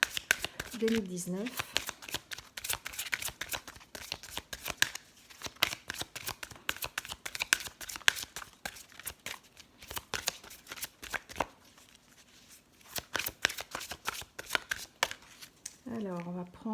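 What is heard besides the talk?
shuffling tarot cards to draw a card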